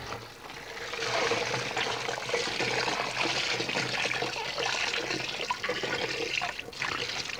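A heavy, wet sheepskin fresh from a tanning bath goes into a tub of clean rinse water, giving a steady, close splashing and sloshing rush of water with no talking.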